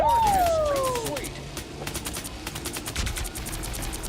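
Pulse cannons fire in Marvel Rivals as a rapid train of sharp repeated blasts after a whining, rising charge-up tone, loud at first and then continuing steadily under faint voices.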